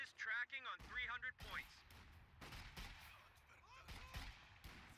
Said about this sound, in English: another quick artillery barrage